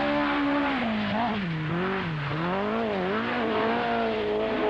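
A 1981 Ford Escort rally car drives a rallysprint stage. The engine note is loud and sustained and rises and falls as the car revs through gears and corners, with a little tyre noise mixed in.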